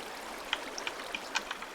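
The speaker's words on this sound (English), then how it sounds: "Kinda loud, the water." Flowing water in Minecraft, a quiet continuous trickling stream with small bubbly plinks scattered through it, alone and fairly soft.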